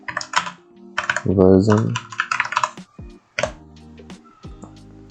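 Quick bursts of keystrokes on a computer keyboard, close and crisp clicking in uneven clusters, with someone speaking briefly in between.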